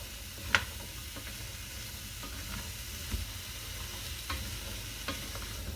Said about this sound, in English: we're going to melt that butter, and we're going to fry those vegetables gently for 10 minutes